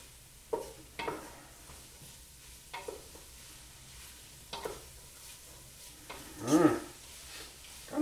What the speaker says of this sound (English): Now I'm mixing them in with the onions and the celery